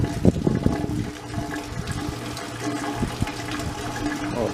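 Water rushing fast out of a pond filter drain, a steady loud gushing and gurgling flow throughout, close by with no talk.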